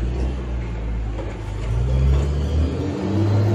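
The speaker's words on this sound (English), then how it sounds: "there's the garbage truck right there" A garbage truck passing close by on a street, a loud low engine rumble and whir that swells and surges toward the end, with no talking.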